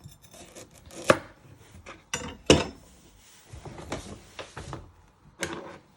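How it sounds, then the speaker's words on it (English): Carrot ends are chopped off with a knife on a board, a few irregular close thuds and cuts of varying strength mixed with light handling noises, no talking. "Now you're going to prep your carrots. You first chop your ends off."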